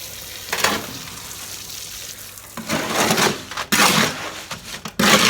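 Concrete patch mix for repairing a hangar floor pad is worked in a wheelbarrow, coming as bursts of gritty scraping and sloshing strokes separated by short pauses, close and fairly loud.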